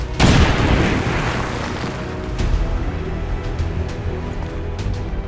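A grenade explosion in the video game XCOM 2 goes off as one loud boom, then rolls into a long, rumbling debris tail with scattered crackles and thuds.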